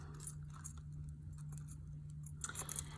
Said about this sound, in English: I can take these keys off